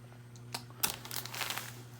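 Plastic bags used to weigh down microgreen trays are handled: faint, brief crinkles and rustles come in a few close, quiet bursts over a low steady hum.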